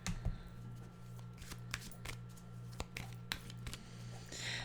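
A deck of animal cards being shuffled close by, soft repeated riffles and sharp card snaps at irregular intervals over a steady low hum, with no talking.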